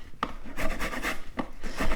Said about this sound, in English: using my microplane, my grater, just sit it on the actual blender